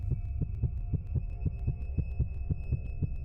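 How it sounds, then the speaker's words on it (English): Rapid heartbeat sound effect from the video game Socially Awkward, a steady pounding double-thump pulse repeating about three times a second over a low hum, close and loud with no talking. "Your heartbeat skyrockets as you run along the courtyard."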